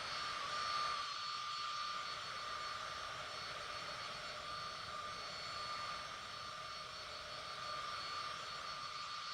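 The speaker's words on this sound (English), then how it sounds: "So we're flying along in the business jets." Steady jet engine drone of a simulated business jet in cruise flight, a continuous even whine with a constant high tone running unbroken throughout.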